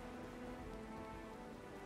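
Storm rain in Pillars of Eternity 2, a steady, dense hiss of rainfall on surfaces with a faint low rumble beneath, continuous and unbroken.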